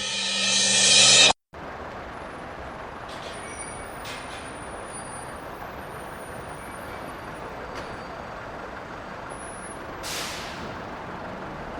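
City bus with air brakes idling in steady rumbling traffic, a loud hiss burst opening the scene before a brief cutoff, then continuous engine drone with faint hissy releases later on.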